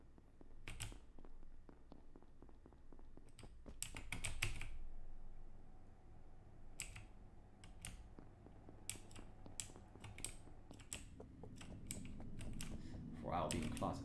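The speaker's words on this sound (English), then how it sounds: "I'll be deleting the message I'm accidentally typing in Discord" Someone types a message on a computer keyboard during an Among Us game, with irregular bursts of key clicks and pauses against a low background hum, and occasional voice sounds.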